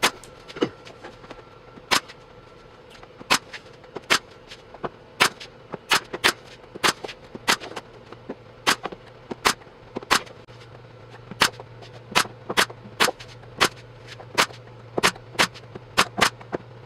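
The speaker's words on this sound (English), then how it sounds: "Then I put the top on and secured it with brad nails." Brad nailer driving brad nails into plywood while a workbench top is fastened down: about two dozen sharp, loud pneumatic snaps fired at an irregular, fairly quick pace over a low steady hum, with no talking.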